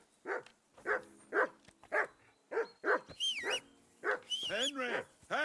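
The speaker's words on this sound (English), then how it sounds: "Call off that mutt" A dog in Kingdom Come: Deliverance 2 barks in a steady run of sharp, evenly spaced woofs that end in whimpering yelps, close and fairly loud.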